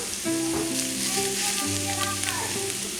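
Ground beef, peppers and onions sizzle in a pan with cream cheese, a steady hiss underneath a melodic tone and a low hum over the short stretch.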